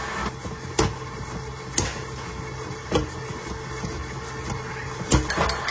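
An electric hand mixer whirring steadily through American-style cookie dough, a constant motor hum broken by periodic clacks and knocks as the beaters strike the bowl.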